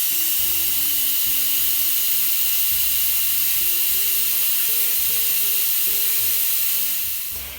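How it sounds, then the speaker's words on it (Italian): Steam rushes steadily and loudly from a pressure cooker valve that a fork holds open, a constant hiss over a low, wavering mechanical hum that fades slightly at the end. "inserendo i rebbi di una forchetta sotto la valvola la terremo aperta in questo modo per far fuoriuscire tutto il vapore"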